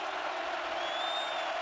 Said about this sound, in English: Crowd is alive. It's noisy here in Austin.